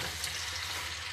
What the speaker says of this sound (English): And then we're just going to kind of flip them and stir them around.